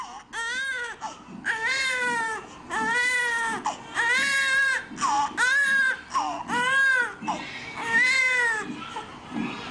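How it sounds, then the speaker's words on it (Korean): A newborn wails in rhythmic bursts of high, quavering cries, each lasting about a second with short gaps between. The sound is close and fairly loud, and the last few cries come out a little shorter and more broken. "역시 울음을 그치는 아기"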